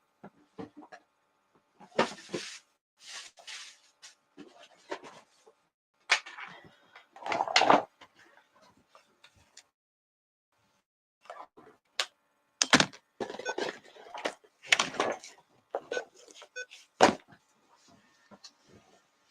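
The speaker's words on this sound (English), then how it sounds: "Right, to bring my drawer over." A heavy wooden drawer is carried and set down with scattered knocks, thuds and scraping clatters, close and intermittent, separated by quiet gaps.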